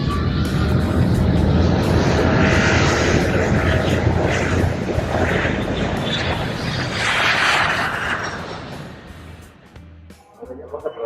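A steady, loud engine rumble fills an airplane cabin during a long flight, a broad continuous roar that dips slightly near the end, with voices faintly mixed in.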